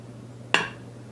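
A single sharp metallic clink of pots and pans as cooked beef from a Traeger smoker is moved into a Dutch oven, one brief bright hit that rings out quickly over a low steady hum.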